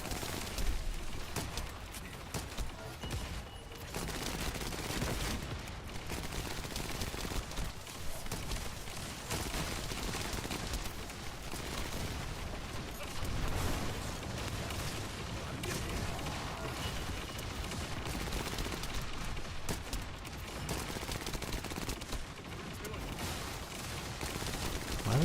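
Dense, continuous gunfire from The First Descendant, rapid overlapping shots and explosions forming a steady roar for the whole stretch, with a voice talking intermittently beneath.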